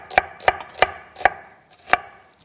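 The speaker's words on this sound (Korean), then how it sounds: "이렇게 양파를 조금만 너무 두툼두툼하게 썰지 말고 이렇게" Thin slices of onion cut with a knife on a board, five crisp chopping knocks in a steady rhythm, close and clear with no talk.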